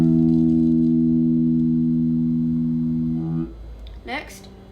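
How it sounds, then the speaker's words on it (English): An acoustic guitar's open low E string rings out alone for about three seconds, close and steady, then fades as a brief voice comes in at the end. "So the low E string is going to be open."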